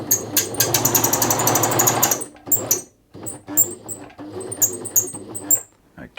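A very noisy Bernette 50 sewing machine runs in rapid clattering bursts, first in one long continuous run and then in short stop-start spurts with sharp ticking and knocking, loud and close.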